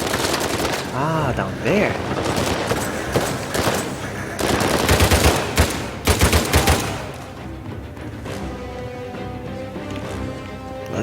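Sustained machine-gun fire aimed at the player in Uncharted 4, with loud rattling bursts that ease off toward the end, a voice talking briefly amid the shooting.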